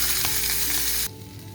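Steak sizzles loudly in a hot pan greased with tallow, a steady close frying hiss that cuts off abruptly partway through.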